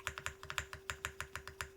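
Subdued, foamy-sounding mechanical keyboard typed at a steady pace, about a dozen soft, muted keystrokes in quick succession, close and fairly quiet with no voices.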